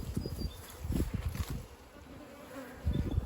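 Honey bees swarm around an open beehive during a hive inspection, a dense, close buzzing that swells and fades in waves, with a faint steady high tone running underneath.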